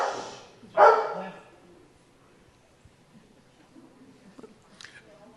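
A dog barks from a BBC video playing in the room, one loud bark near the start, then a few faint yips and shuffles in a quiet room.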